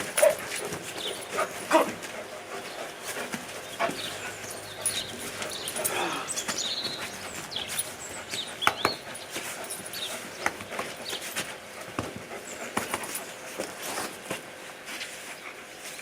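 A protection-trained dog lets out several sharp barks and yips at its handler during a training session, with hooves clip-clopping now and then and someone briefly speaking nearby.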